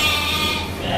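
Goats bleating on a goat farm during feeding, a steady, fairly loud bleat that carries through the whole moment, close by.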